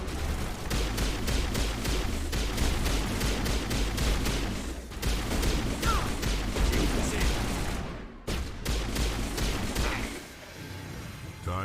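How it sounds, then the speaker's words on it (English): Rapid, sustained gunfire in the video game Mass Effect, with loud, dense pistol-type shots and impacts rattling almost continuously, briefly dropping out before resuming, amid game combat noise. "I like using the pistol."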